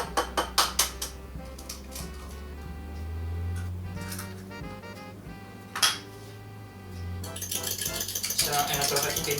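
A fork briskly beats eggs in a separate bowl while making cream puffs, quick clinking, rattling strokes against the dish coming in bursts, loudest at the start and again toward the end, with a low hum underneath.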